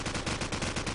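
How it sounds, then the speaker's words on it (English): Rapid AK rifle fire in a tactical shooter match, a steady burst of evenly spaced loud shots rolling continuously, thick and close. "trying to land a whole bunch of AK rounds"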